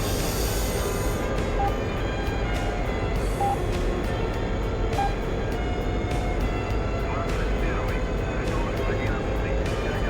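Steady, loud jet engine roar from a combat plane on approach to land in the flight simulator DCS, a continuous whining drone with faint clicks on top, close and unbroken throughout.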